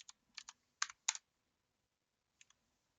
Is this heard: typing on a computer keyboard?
yes